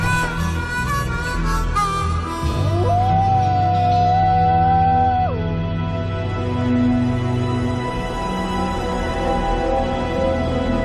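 A wolf in Yellowstone howls in a long, rising and sustained tone with wavering pitch, loud and close, layered over a low droning backdrop of music, with no talking.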